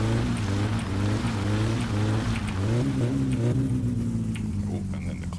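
A car in the game My Summer Car revs hard in first gear with the e-brake on, the engine note rising and falling in loud, wavering harmonic pulls that settle toward a steadier drone.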